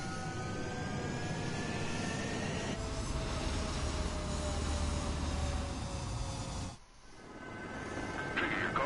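Fighter jet engine roaring during takeoff in the Ace Combat 7 flight combat video game, a steady loud whine and rumble that briefly drops off near the end before surging back, with no talk.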